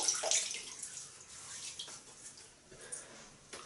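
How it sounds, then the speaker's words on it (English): Water splashes and trickles close up as a face is wetted before shaving, a soft continuous wash that fades after the first second or so. "Just going to wet my face."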